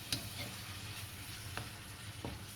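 Shepherd's pie filling sizzles and fries steadily in a pot, a continuous close crackle with a few sharper pops and no talking.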